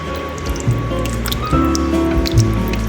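Spoon stirring lasagna sauce in a crock pot on low heat, wet squishing and dripping sounds with a few louder sloshes, close up and without talk.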